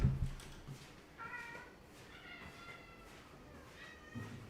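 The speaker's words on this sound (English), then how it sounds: "Let's get these cats their food." Several cats meow before being fed, with a few separate, fairly faint, drawn-out cries and soft handling noises between them.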